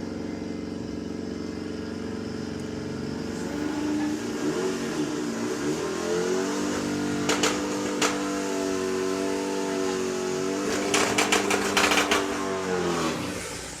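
A Volkswagen drag car makes a solo run at Santa Pod during the VWDRC Springspeed Nationals eliminations, its engine droning and then revving hard through rising, shifting pitches, with sharp crackles near the peak before easing off.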